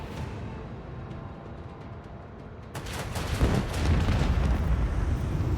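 Ship cannon fire and explosions in Warhammer 40,000: Rogue Trader, a low rumbling barrage that swells partway through into louder, denser blasts and heavy booming.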